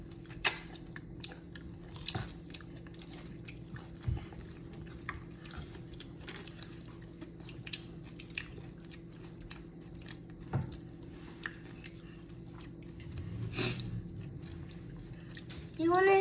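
Crispy coconut shrimp being bitten and chewed close up, with soft intermittent crunches and mouth sounds over a steady low background hum.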